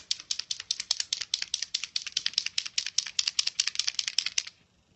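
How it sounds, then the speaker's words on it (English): A white paint marker is shaken hard for about four and a half seconds, its mixing ball producing a rapid, crisp, close rattle of clacking hits. The rattling stops abruptly, leaving near silence. "White paint marker."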